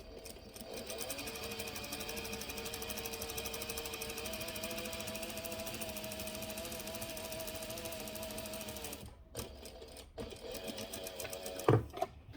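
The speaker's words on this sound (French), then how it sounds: "là je viens d'effectuer ma deuxième couture" A sewing machine runs steadily for about nine seconds, stitching a French seam in fabric with a fast, even mechanical chatter, then stops, followed by a few brief handling clicks and bumps.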